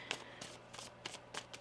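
Tarot cards are shuffled by hand in four or five quick, soft riffling bursts at an even rhythm, close and quiet, with no talk.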